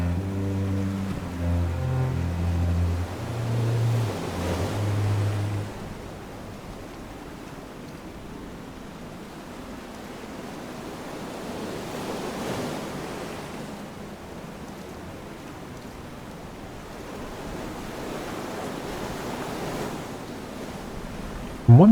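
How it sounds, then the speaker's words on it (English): Open-ocean surf and wind in FAR: Changing Tides, a steady broad wash swelling and easing in slow waves, with a low tonal hum early on and a sharp knock at the very end. "now we're out on the ocean itself"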